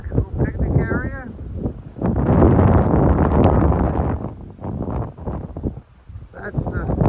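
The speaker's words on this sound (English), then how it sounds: "A little breezy today." A breezy wind blows outdoors at a small park with a picnic area, surrounded by Missouri farmland. It makes loud, blustery rumbling gusts against the microphone that rise and fall, with a person talking between and over them.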